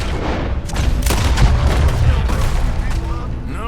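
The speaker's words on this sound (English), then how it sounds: "Hardly see what I'm shooting at." Gunfire in Red Dead Redemption 2 at night: a loud, dense exchange of cracking shots and booms that overlap continuously across the moment.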